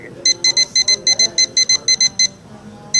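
A timer beeps in a quick run of about a dozen short, sharp electronic tones, then pauses and gives one more beep, loud and close at a live sports radio broadcast from a car dealership.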